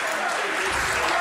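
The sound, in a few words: crowd applauding at poker tournament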